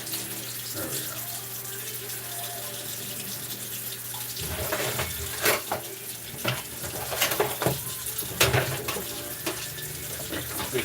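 Tap water runs steadily into a kitchen sink while dishes and utensils are washed, a continuous hiss broken by clinks and sloshes that grow busier partway through.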